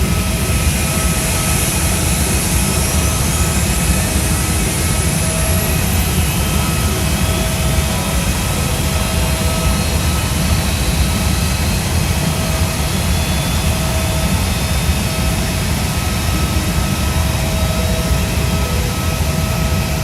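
A flight-simulator airliner landing on the Jeju to Gimpo route gives a loud, steady jet engine roar with a broad rushing hiss and low rumble, unbroken throughout with no talking.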